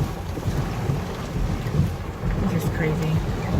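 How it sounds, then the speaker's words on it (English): Strong gusting wind from a sudden storm buffets the microphone from inside a vehicle, a rough, roaring rush that swells and eases throughout, with brief faint sounds over it. "it is windy as shit"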